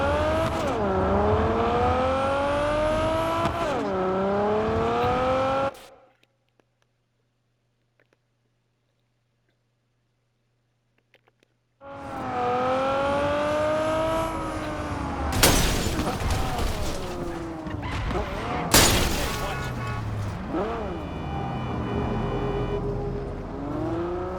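A car in Cyberpunk 2077 drives with its engine revving and changing pitch, cuts out for several seconds, then returns with crashes, impacts and a voice talking over it.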